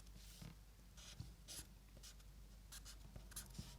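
Pencil scratching and sketching across paper while a comic page is drawn, heard close but very quiet, with soft irregular strokes and short bursts of scribbling against a low background hum.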